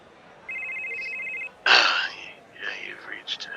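A telephone rings with a steady electronic tone for about a second, followed by a burst of noise and a voice answering the call.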